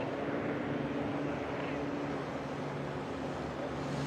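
Steady engine drone from a STOL aircraft taxiing after landing at a STOL drag race, a continuous hum at moderate distance with no break.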